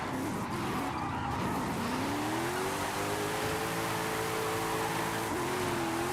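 Several cars drift in tandem and overtake during an online video game drift convoy, including a Monte Carlo and a Nova, with a steady engine drone and rising revs running throughout. Tyre squeal sits under the engines.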